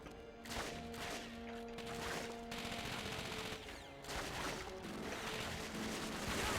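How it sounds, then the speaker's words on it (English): Sustained machine gun fire in the World War II shooter Call of Duty: Finest Hour, a dense continuous rattle of bursts with crashing impacts, loud and unbroken throughout. "I'm gonna get totally mowed down by this machine gun that's out here"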